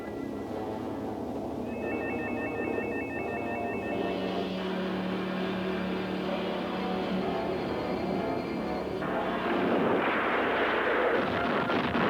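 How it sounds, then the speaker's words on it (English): Sustained loud weapon fire in an animated 1980s cartoon battle, a dense continuous barrage of blasts and rumbling booms mixed with whirring electronic tones, with no talking over it. "Bubba, keep firing"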